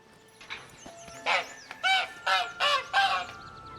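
A goose in a cage in The Witcher 3: Blood and Wine honks five times in a fairly even run of loud, nasal calls over quiet game ambience.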